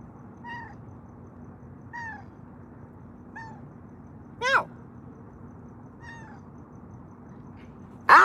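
A male cat meows in a short series of clear, evenly spaced cries, fairly close, with two louder, sharper yowls breaking in toward the end.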